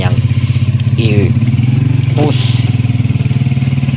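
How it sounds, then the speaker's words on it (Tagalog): A motorcycle rides through thick mud that reaches halfway up the wheels. Its engine chugs close and loud in a steady, even pulse, with a few short clatters and brief talking over it. "Kalakas po ng aking motor dyan."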